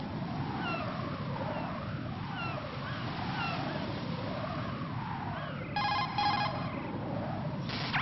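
Cell phone ringing in the video game Metal Gear Solid 2, a short electronic ring bursting in briefly near the end over a steady, wavering in-game background drone.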